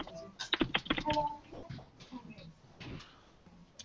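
Keystrokes on a computer keyboard as a git command is typed into a terminal, a quick cluster of clicks early on that thins to sparse taps, with faint background talk from an online developer meeting.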